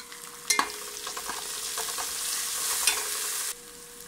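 Green chili paste fries in a hot pan with a steady bright sizzle, broken by a few scraping stirs near the start and middle, close and alone without voices.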